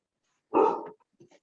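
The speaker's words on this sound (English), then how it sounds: "All I can hear is the dog." A dog lets out a single sharp bark nearby, followed by a couple of faint soft sounds in an otherwise quiet room.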